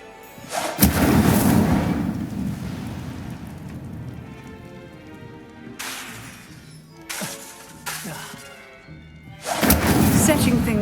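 Incendio fire spell in Hogwarts Legacy, bursts of crackling, whooshing flame erupting several times with loud rushing blasts and sputtering between, a voice speaking briefly amid the effects.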